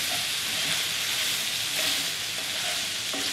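Lean ground beef sizzles in a pan for spaghetti meat sauce, a steady loud crackling hiss with faint stirring scrapes, close up and without any talking.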